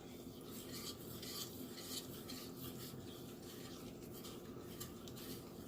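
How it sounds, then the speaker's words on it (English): A spoon stirs ravioli cream sauce in a pan with a quiet, continuous scraping and swishing, faint and close, with no talking. "I'm just going to stand here and keep stirring this a minute"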